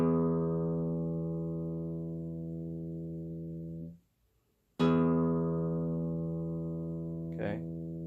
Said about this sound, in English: we're going to start out with our thickest E string